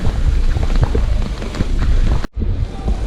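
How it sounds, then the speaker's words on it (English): Steady outdoor rain in Medellin, Colombia, a dense close hiss of drops with gusty wind buffeting the microphone, continuous and loud with a brief dropout near the end. "And the rain is picking up."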